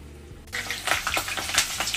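Vada frying in hot oil for vada pav, a sudden rush of bubbling sizzle that starts after a short quiet moment and keeps crackling steadily, close and clear.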